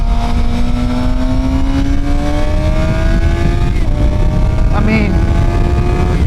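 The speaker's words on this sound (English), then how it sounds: "we're just kind of going through the gears here, and it just is so slick on this bike" A Suzuki GSX-R 750 sportbike engine climbing steadily in pitch as it pulls through the gears, with a brief drop at a shift, loud and close under heavy wind roar, with a few spoken words from the rider.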